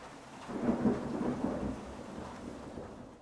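Lightning bolt thunder from the video game Octopath Traveler, a single deep rumbling roll that swells within the first second and slowly fades, heard alone with no voices.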